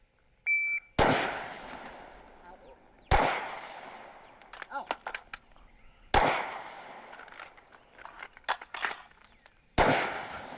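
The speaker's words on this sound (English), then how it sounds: "That rifle reload, though." Rifle shots during a timed shooting drill: four sharp, loud reports spaced a few seconds apart, each followed by clattering clicks and handling noises of the reload between shots.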